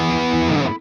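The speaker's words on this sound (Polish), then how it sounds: "Tube Screamer." Electric guitar through the Tube Screamer overdrive setting of a UAFX Knuckles '92 Rev F Dual Rec amp pedal, a single sustained distorted chord ringing loud and alone before being abruptly choked off.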